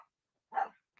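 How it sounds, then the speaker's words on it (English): A dog named Amber barks once, a single short, fairly loud bark, with only faint sound before and after it. "Gotta let Amber's got to bark here for a couple of minutes"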